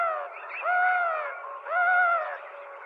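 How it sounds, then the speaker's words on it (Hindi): A black crow perched on a tree branch in a Hindi story cartoon gives two drawn-out, wavering calls, close and clear against silence. "वहीं पेड़ की डाली पर एक काला डरावना कौवा बैठा था।"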